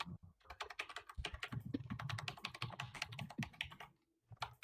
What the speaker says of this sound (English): obnoxious typing detected coming from Dripnos